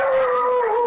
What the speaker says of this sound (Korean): 제가 막 다가가면 또 짖을 거거든요